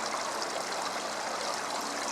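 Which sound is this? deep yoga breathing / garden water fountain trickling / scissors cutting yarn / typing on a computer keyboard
garden water fountain trickling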